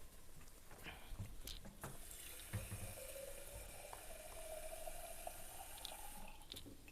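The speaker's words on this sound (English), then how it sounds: "I am going to add a little splash of water to mine." A splash of water goes into a pan of browning onions for black chana masala, and a steady hissing, watery wash follows, moderately close and even, with a few faint clinks.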